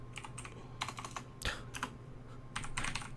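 Typing on a computer keyboard: quick bursts of clicky keystrokes broken by short pauses, close and fairly quiet over a faint steady hum.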